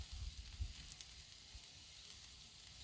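A breakfast sandwich patty cooks on a flat griddle, giving off a soft, steady sizzling hiss that stays faint and even throughout, with a few low bumps near the start.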